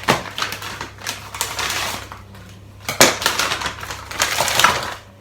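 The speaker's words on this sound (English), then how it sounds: "putting my cod into a Pyrex dish" Raw cod fillets set into a glass Pyrex baking dish in a home kitchen, with a run of close clinks, taps and scraping clatter against the glass, loudest in short bursts near the end.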